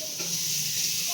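Chopped chili and onion fry in a pan with a continuous, even sizzling hiss that stays steady and close throughout.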